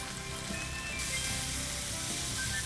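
A pan of chopped tomatoes and bell peppers sizzling on the stove, a steady close hiss of frying that grows a little louder partway through, with no voices.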